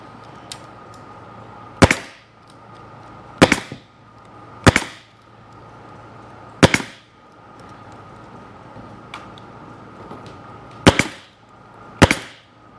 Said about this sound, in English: I'm shooting these staples probably every 3/4 of an inch or so